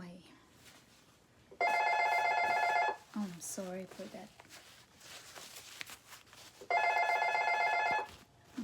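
An old-style telephone bell rings in two long, loud trills with a gap between them, while someone in a kitchen making vegetable and fruit sandwiches speaks briefly over the noise.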